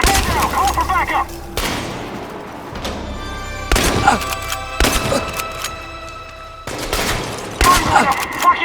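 Gunfire from the final heist of the video game Chernobylite comes in several bursts of rapid shots and fusillades, loud and close, separated by brief lulls with shouting voices mixed in.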